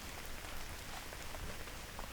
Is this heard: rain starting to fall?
yes